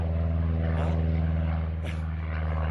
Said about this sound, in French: Encore un oiseau à moteur qui passe. Donc ça s'appelle un avion.